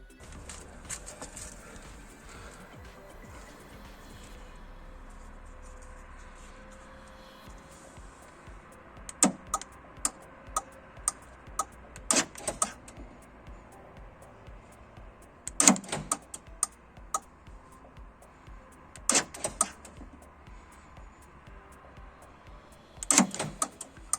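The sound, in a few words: car central locking kit actuator opening and closing door lock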